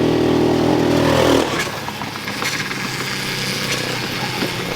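A cheap Amazon four-wheeler engine runs loud and close at speed, a steady buzzing drone that drops in pitch as the rider shifts gears, then holds a rough, throaty roar with wind noise.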